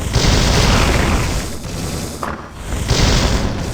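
Sorcerer spell shots in the Diablo video game, a dense, loud barrage of booming blasts with a brief lull before the fire picks up again.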